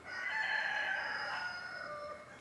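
A rooster crows loudly and close by at a farm chicken coop, with one drawn-out crow that rises and holds before fading, while the hens stay quiet.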